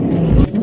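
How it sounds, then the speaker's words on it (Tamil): A car engine turns over and rumbles at a steady low idle, close and loud, during a short, comic driving lesson. "வண்டி ஸ்டார்ட் பண்ணு."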